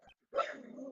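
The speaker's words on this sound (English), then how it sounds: "Bark." A short single dog bark from the game Miles Edgeworth Investigations 2, brief and fairly clear, preceded by a faint tick.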